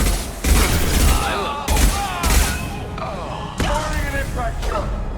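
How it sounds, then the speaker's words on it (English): In the video game Mass Effect 2, several loud gunshot bursts and impact blasts hit close by, separated by short gaps, while voices speak over the combat. "Firing an impact shot"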